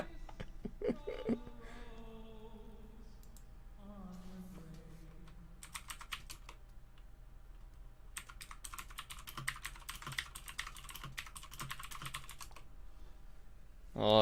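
Bursts of rapid clicking keystrokes on a computer keyboard, quiet and close, coming in clusters separated by short pauses.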